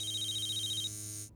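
A cartoon telephone rings with a bright, rapidly trilling electronic tone that pulses for most of a second, then holds steady before cutting off abruptly; it is clear and alone, with no talking.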